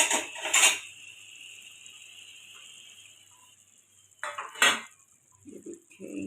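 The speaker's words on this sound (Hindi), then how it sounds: "एक प्लेट लेंगे" Plates and metal dishes clink and clatter in a home kitchen while cooking haleem, two sharp bursts of handling near the start and again near the end, with quieter knocks between.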